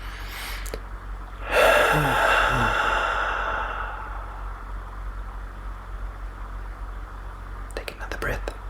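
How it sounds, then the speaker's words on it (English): A slow, deep, deliberate breath drawn in and released during a guided gratitude meditation, a close breathy rush that swells and fades over a couple of seconds before near-silence, with a few soft breath noises at the end. "I invite you to take a deep and conscious breath"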